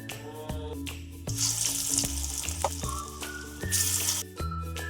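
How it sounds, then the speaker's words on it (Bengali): Mint leaf pakoras deep-frying in hot oil, a steady crackling sizzle that swells in bursts alongside scattered clinks and scraping, close by with no talking. "আর বাকি কয়টা আছে ওই কয়টাও আমি ভেজে নেব"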